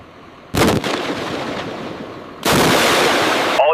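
HIMARS rockets launching during a live-fire military drill: two loud, close, roaring blasts, each sustained with a rushing, broadband thunder, the second starting about two seconds after the first.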